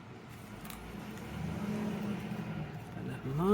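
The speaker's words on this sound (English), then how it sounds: "there's a lorry going past" A lorry driving past outside on a quiet Sunday, heard from indoors as a faint, muffled rumble that slowly swells and fades, with a voice starting up right at the end.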